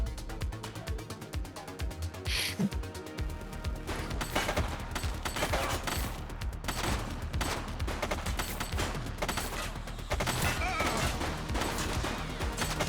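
Gunfire in the police video game The Precinct, sharp repeated shots and bursts over a busy game soundscape, loud and sustained with little letup.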